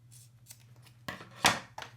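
Scissors snipping through a rubber spear band: a few crisp cuts close to the mic, with a steady low hum underneath.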